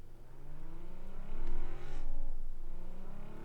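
Car engine in the PUBG battle royale game, droning steadily and revving as it drives, pitch climbing and falling through shifts, close and continuous with no talk.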